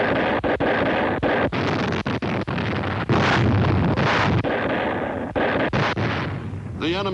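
Naval gunfire roars during the Battle of Empress Augusta Bay, a dense, loud barrage of heavy booms and repeated sharp blasts rolling over one another with no pause, crackling like old wartime film sound.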